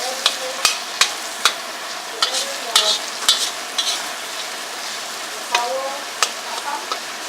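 Anchovies sizzle in a pan with sambal belacan while a utensil stirs them, sending out a steady fry hiss broken by sharp clacks and scrapes, close and fairly loud, with no talk.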